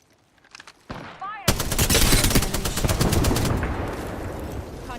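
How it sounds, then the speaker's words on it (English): Enemies in a video game open fire in dense, sustained bursts of rapid machine-gun shots that swell loud and clattering, with voice callouts mixed in. "Bomb boys are shooting at me."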